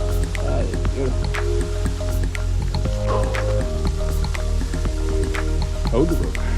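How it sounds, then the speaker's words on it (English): A waterfall heard from down inside a cave: a steady, broad rush of falling water fills the whole clip, partly masked by strong humming tones and mixed with wet dripping and splashing. "Just arrived at the waterfall down in there."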